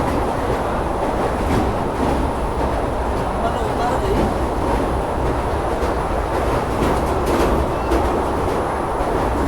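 A moving Indian passenger train, the Shridham Express, makes a loud, steady rumble with a broad rushing roar and faint rhythmic clatter, continuous and close throughout.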